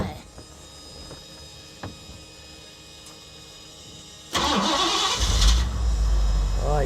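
A car engine cranks and catches midway through, then keeps running at a loud, steady idle close by after a quieter stretch of background noise.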